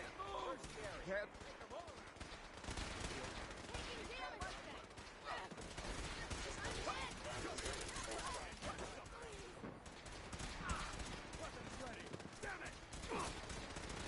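Dense, continuous gunfire in a Fallout 4 battle, a rapid chatter of shots with no pauses, mixed with voices shouting over the fighting.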